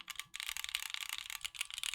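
Bursts of close, clacky keystrokes on a custom mechanical keyboard build with slight ping, typed in quick irregular runs with no talking.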